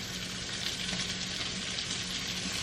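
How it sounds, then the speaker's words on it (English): Broccoli and burgers cook together in a pan with a soft, even sizzle and crackle that runs steadily, fairly quiet and unbroken, with no voices. "while I have my broccoli and burgers cooking"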